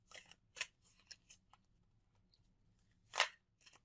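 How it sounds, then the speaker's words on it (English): Tarot cards pulled and shuffled from a deck, a few quick papery snaps and slides at the start, then a louder sharp card flick near the end, close and quiet otherwise. "let me pull a couple more cards for you guys"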